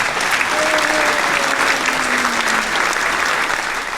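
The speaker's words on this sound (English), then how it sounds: "little applause for you" Applause from a small audience during a talk about Ghent's medieval history, a steady, dense patter of clapping lasting the whole moment, with a voice briefly audible underneath.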